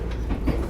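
Steady low rumble of a train on rails heard from inside a carriage on a Japanese train, continuous and fairly loud with faint rhythmic clatter, no voices.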